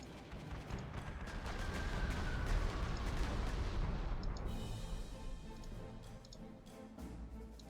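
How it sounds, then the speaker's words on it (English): Bomber strike pounding the town of Le Mans in the wartime strategy game Panzer Corps 2: a dense, rumbling barrage of overlapping blasts and crackling impacts that swells and then thins out, with no talk. "for my bomber, I'm gonna start pounding Le Mans"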